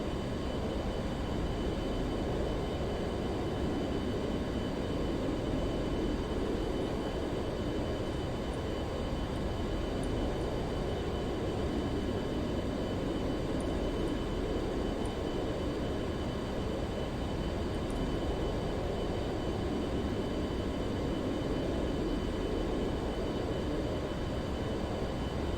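A steady, continuous drone of an aircraft engine in Flight Simulator 2004, holding an even roar with broadband rumble and faint tonal lines throughout, with no talking.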